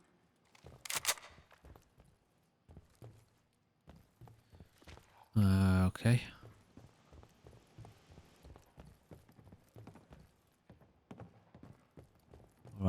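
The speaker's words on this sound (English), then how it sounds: "I can hear zombie footsteps." Zombie footsteps in the video game Fallout 4, a faint irregular series of soft thuds spread across the scene, with a brief louder burst of game noise midway and a person speaking briefly.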